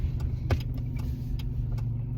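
Interior road rumble from a car on a commute to work, a steady low hum with a few small clicks and rattles, and nobody speaking.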